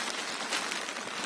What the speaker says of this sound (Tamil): மழை வந்துச்சு, ஃபுல் மழையாகி போச்சு